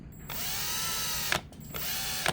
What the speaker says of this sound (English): Now I gotta drill it.